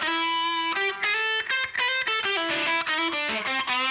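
Distorted electric guitar plays a fast riff built on a pentatonic scale, with one added outside note, and each note rings clearly and loudly with sustain and no talking throughout.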